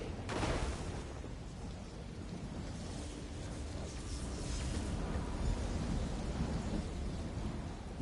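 Thunder cracks and rolls in the game Elder Scrolls Online from a lightning attack, a sharp burst followed by a long low rumble and steady rain-like hiss.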